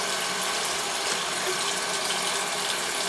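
Tap water runs continuously into a cup, a loud, steady splashing hiss lasting throughout with no voices over it.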